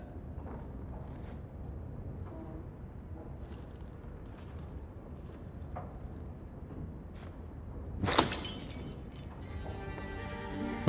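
A glass smashes against a wall in the fantasy video game Dragon Age 2, a bright, crashing shatter bursting out over a steady bed of game ambience and background noise.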